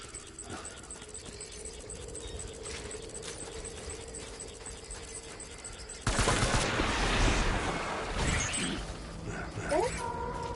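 Video game gunfire in Death Stranding, a dense, loud volley that erupts partway through over a steady background hum, with rapid shots and crackle continuing to the end.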